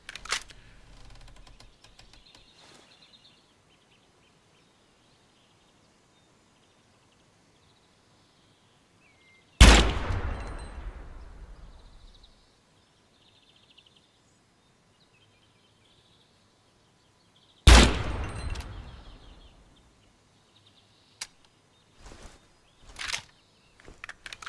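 Two sharp AK rifle shots in GunSmith Simulator are spaced far apart, each a loud crack with a decaying echo tail, against near silence and a few faint clicks.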